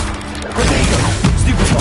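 Spell-casting combat effects from the Hogwarts Legacy video game: a quieter opening, then a dense, loud run of booms, thuds and crashing impacts that continues to the end.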